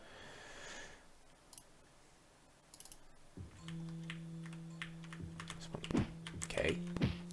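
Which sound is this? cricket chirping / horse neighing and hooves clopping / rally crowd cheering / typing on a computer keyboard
typing on a computer keyboard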